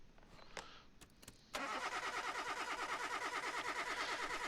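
A car engine cranks over for a compression test in Car Mechanic Simulator 2021, a few short clicks and thumps first, then a sudden loud, even, rapidly pulsing churn of the starter turning the engine, sustained to the end without talk.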